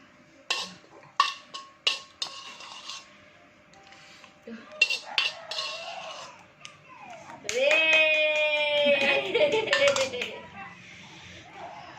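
Metal spoons clink against dishes while serving spicy fried noodles, a series of sharp scraping taps mixed with lively talk and a voice nearby.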